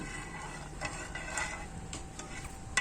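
Sugar syrup for tanghulu being stirred in a pot, a steady soft scraping and bubbling texture with occasional light clinks of the utensil against the pan, close by and continuous.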